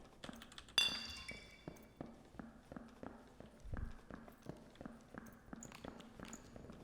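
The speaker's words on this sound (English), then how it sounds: "I hear footsteps." Steady footsteps in a video game, a regular run of light taps close by and fairly faint, with a brief clatter near the start.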